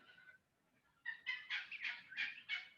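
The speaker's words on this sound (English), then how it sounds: "All the birds are waking up." Birds call at dawn in the Australian wilderness, a series of bright chirping bursts, one faint call then five or six louder repeated phrases, heard fairly close with no talk.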